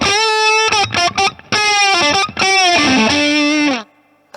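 Electric guitar solo played through a Savage boost pedal placed ahead of a distortion, loud and saturated with sustained bent notes and short phrases broken by brief gaps, ending in a quiet tail.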